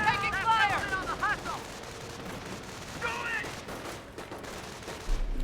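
Rapid bursts of gunfire in the Company of Heroes real-time strategy game, a rattling volley followed by scattered shots, mixed with chirpy game unit voices and effects at moderate level.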